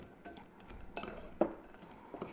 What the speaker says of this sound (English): Let me grab a spoon. So we're just going to kind of mix up the nuts,